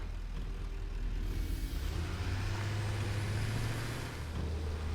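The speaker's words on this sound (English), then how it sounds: "These trucks are fairly maneuverable, so this is a viable option for us." A truck in the factory-building game Satisfactory rolls into a loading station, its engine a steady, close low rumble with a brief rise midway and no talk over it.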